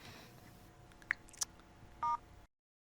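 A phone being dialed to place a call, with a few short beeps and a steady tone burst near the end over quiet room noise, followed by silence.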